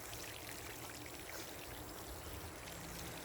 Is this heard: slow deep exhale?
no